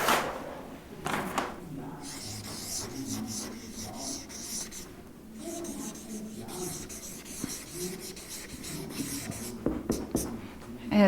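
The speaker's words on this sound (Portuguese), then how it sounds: "vou escrever aqui na outra folha para ficar melhor para vocês enxergarem" Pen scratching across a sheet of paper at close range, steady strokes with short pauses and light rubbing as words are written out.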